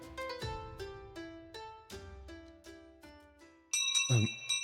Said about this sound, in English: The bell rings, signaling the end of class.